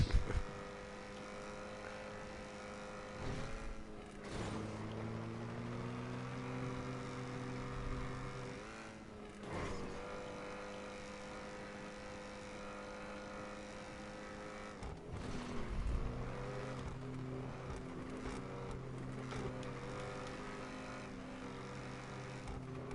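A car engine drones steadily while driving in GTA V Online, its pitch rising and falling through gear shifts over a continuous hum, fairly quiet with no talk.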